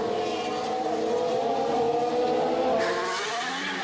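Formula 1 car at Monza in 2019 spinning its wheels out of a corner, a steady high engine whine with a tyre scrub and a brighter shift near the end, loud and close with no talk.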